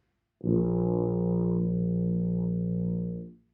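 One sustained low tuba B flat starts firmly and holds evenly for about three seconds, then tapers off; no voices accompany it.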